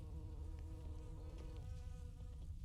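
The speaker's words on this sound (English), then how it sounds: "bee sounds" Steady, soft droning buzz of bees in The Witcher 3 near Castel Ravello, continuous and low, hovering in the background with no voices.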